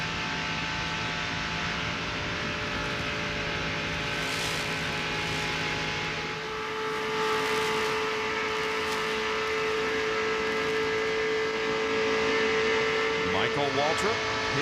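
Stock cars race at Daytona International Speedway during the 1997 Pepsi 400, their engines a steady, continuous roar heard from a distance beneath ongoing commentary.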